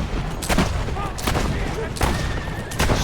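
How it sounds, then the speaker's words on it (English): Machine gun in Assassin's Creed Brotherhood, loud bursts of rapid gunfire arriving in several separate volleys, close and harsh. "Something tells me he didn't invent the semi-auto machine gun."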